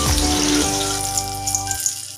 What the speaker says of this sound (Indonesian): Kita sangrai dengan api yang tidak terlalu besar supaya dia jangan gosong ya